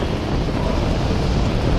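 Rocket engines running at liftoff during the All Up Test, a loud, dense, unbroken rumbling roar sustained throughout, with no voices.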